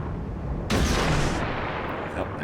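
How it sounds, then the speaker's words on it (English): Heavy naval gun salvo from a warship in World of Warships, a loud broadband blast that starts suddenly and rolls on for about a second over steady low battle rumble. "He's shooting at another Aoba."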